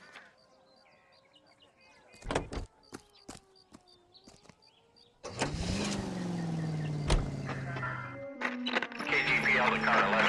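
A 1940s-style car is driven in the L.A. Noire video game, its engine hum starting midway and holding steady, after earlier scattered clicks, faint birds and a voice.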